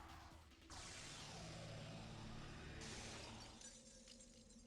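Glass shatters in the Devil May Cry video game, giving a bright, loud crash that rings for about two seconds. A second shatter-like burst follows, fading into a low game background hum.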